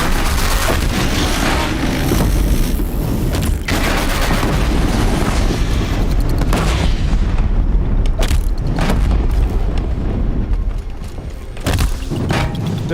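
Sticky bomb explosions in the Horizon Zero Dawn Frozen Wilds game, loud booming blasts and thuds over dense continuous combat noise, several impacts through the stretch.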